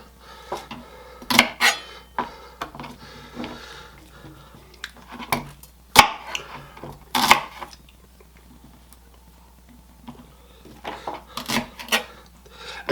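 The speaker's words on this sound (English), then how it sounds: "we're going to cut up some celery" Celery stalks being sliced with a knife on a cutting board. Sharp, irregular chopping clicks come in short bursts separated by quiet pauses, near and moderately loud, with no talking.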